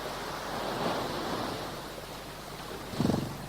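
Sea surf on the small strip of water between the Continent and England, a steady broad wash of waves with a louder surge near the end, heard alone with no voices.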